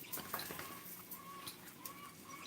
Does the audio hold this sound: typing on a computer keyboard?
no